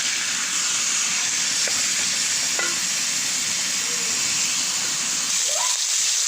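Chopped chicken gizzards sizzling as they stir-fry on the stove, an even, continuous frying hiss up close, broken now and then by soft utensil taps and scrapes, with no one talking.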